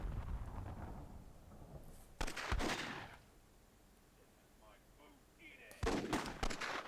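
RPG shots fire in the Myth II Soulblighter video game: two loud explosive blasts a few seconds apart, each with a booming rumbling tail, and a quieter stretch with faint game sounds in between.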